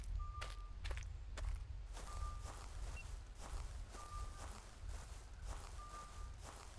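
Heavy dinosaur footsteps from Prehistoric Hunt thud repeatedly in a steady plodding rhythm, fairly close and loud, with faint beeping tones in the background and no talking.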